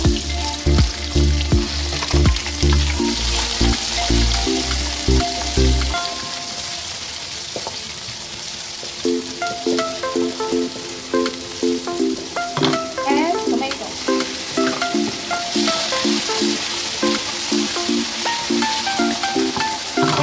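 Chopped onion sizzles and fries loudly in a pan of hot oil for sweet and sour pork, with a steady crackling hiss and occasional stirring scrapes, close up and with no talk.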